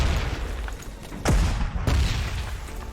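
Artillery explosions in the World War II strategy game Panzer Corps 2, set at Dunkirk: a falling whistle followed by heavy booms and rumbling blasts over dense battle noise, loud and close.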